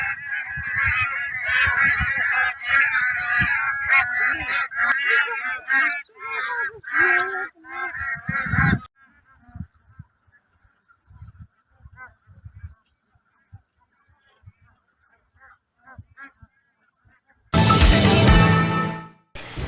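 A flock of migratory birds at a lake honks loudly and repeatedly in dense overlapping calls, then falls quiet apart from scattered faint sounds, before a final loud burst of honking and flapping at the end.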